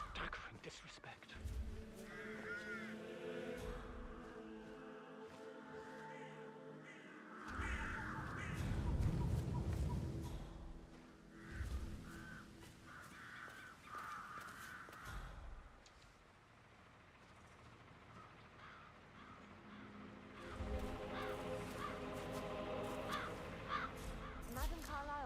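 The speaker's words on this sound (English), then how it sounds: "It's the birds. They're making a racket, droppings everywhere." Crows cawing loudly and persistently inside the Hitman video game, a raucous flock heard in several bursts across the scene, mixed with ambient game sound and background music.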